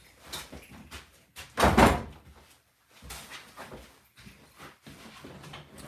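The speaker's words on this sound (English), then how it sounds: "I gotta go shut my door real quick." A bedroom door swings shut with a loud thump midway, surrounded by softer knocks and shuffling, with a dog having just barged in and left, all close by and indoors.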